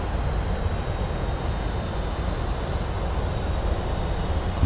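Boeing 757 airliner descending on its approach in a flight simulator, a steady, continuous engine roar with broad low rumble and a faint high whine throughout, no voices.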